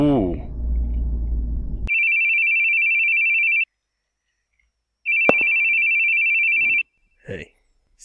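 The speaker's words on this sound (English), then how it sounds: "Your phone! I hate hearing phones ring." A phone rings in the video game The Boogie Man: two long electronic ringing bursts separated by a pause, loud and close. A deeper musical tone comes before them, and brief voice fragments follow near the end.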